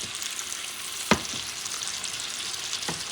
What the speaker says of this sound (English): I'm going to cook each side for about 2 minutes